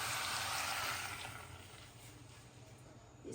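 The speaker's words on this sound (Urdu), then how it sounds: "اب ہم اس میں 1 جگ پانی ڈال دیں گے۔" A jug of water poured into a mutton karahi with onions, a soft splashing rush at first that fades to a quieter trickle, all faint and close.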